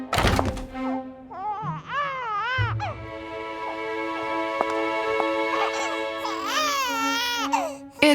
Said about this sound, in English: I heard a baby's cry coming from the storeroom.